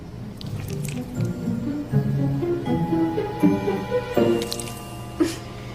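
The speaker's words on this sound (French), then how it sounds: "L'une de vous doit étaler un peu de potion sur son visage" Mushy potion paste squelches as it is smeared onto a face, a run of soft wet squishes and drips under a steady background tone with music-like notes.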